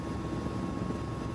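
Simulated Mi-17 helicopter in Microsoft Flight Simulator, a steady dense drone of turbine engine and rotor filling the cabin, loud and continuous with no talk over it.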